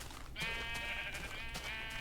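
Minecraft sheep bleating in a snowy winter world, a single drawn-out wavering bleat rising from quiet ambient background and holding for over a second before trailing off.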